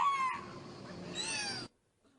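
A trained whale vocalizing in imitation of human speech, a short tonal call with gliding, whistle-like harmonics lasting about a second and a half, then silence.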